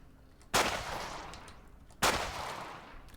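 Two sharp handgun gunshots from the video game Cataclysm DDA, about a second and a half apart, each a loud close crack with a decaying tail.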